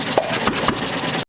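A small see-through engine built from four single-cylinder units joined together, with a bronze-looking cam working the ignition trigger, runs at a steady idle with a close, continuous rattling hum that cuts off abruptly at the end.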